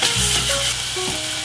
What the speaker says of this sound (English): add in a bit of olive oil, probably about a tablespoon, and then I'm just going to add in the garlic